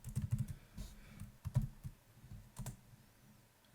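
Computer keyboard keys clack in quick, irregular bursts as someone types code for a Rust smart contract, close and moderately quiet, with short pauses between runs of keystrokes and no voices.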